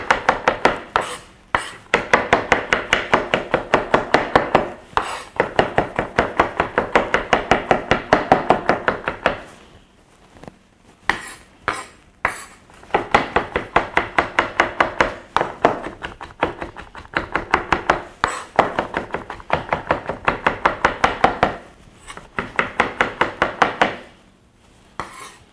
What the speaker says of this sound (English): you can just place one hand on top of the edge of the knife. Just run it back and forward over them.